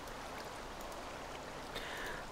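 Flowing water placed in Minecraft, a steady, even rush of trickling water that holds constant from start to finish with no other sounds over it.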